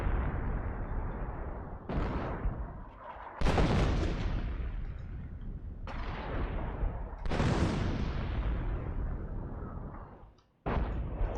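A Priest self-propelled artillery gun fires in a World War II video game battle. Several heavy booming blasts land a few seconds apart, each with a long rumbling decay, loud and close, with no talk.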